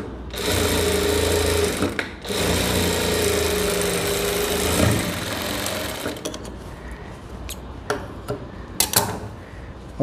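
Sewing machine running steadily while stitching the facing edge of a blouse, a continuous close whirring drone with brief pauses and start-stop bursts toward the end, no talk.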